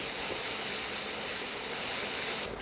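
Boiled potatoes fry in a pan of hot oil for a jackfruit and greens dish, giving a steady close sizzling hiss that runs evenly and then drops off abruptly at the end, with no voices.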